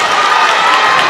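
A basketball crowd in a high school gym roars and cheers loudly, a dense, sustained wall of voices filling the moment without a break.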